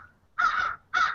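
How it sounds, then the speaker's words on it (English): Crows cawing outdoors: a faint call followed by two loud, harsh caws, close by and clear with nothing else behind them. "There's the crow. I hear the crows."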